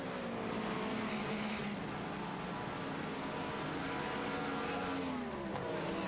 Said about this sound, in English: Cars going down pit lane.